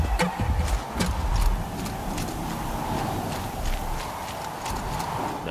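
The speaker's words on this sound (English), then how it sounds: "Now I was hearing these footsteps." Mechanical machine footsteps from the video game Horizon Zero Dawn in a snowy area, a steady clopping tread of repeated thuds under a continuous ambient hum, moderately loud and without talk.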